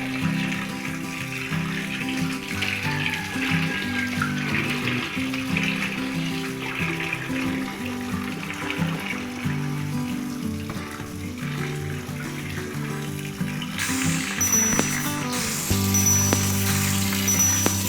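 Raw chicken pieces are rinsed under a running kitchen tap, producing a continuous rush of water with splashing and shifting gurgles. The flow grows brighter and heavier near the end, and no one speaks.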